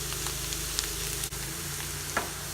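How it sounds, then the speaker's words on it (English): Food sautéing over a low flame in a pan, giving a steady, soft sizzle that runs continuously, with a brief stir or clink partway through. "Cook it on low flame. You don't want to burn it, but you want to saute it"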